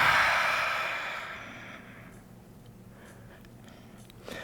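A long breathy exhale during a vinyasa yoga session, loud at the start and fading away over a couple of seconds into quiet room tone.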